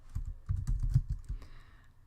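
A short burst of rapid key taps on a computer keyboard while entering a Trello board title, quiet and close, trailing off after about a second, with no voices.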